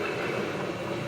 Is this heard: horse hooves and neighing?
no